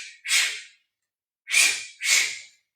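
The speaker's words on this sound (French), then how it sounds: "vous allez faire 2 petites pressions en expirant, une respiration forcée" Two short, sharp forced breaths out during a Pilates scissor exercise, close and loud, separated by a pause, followed by a third similar puff and silence between.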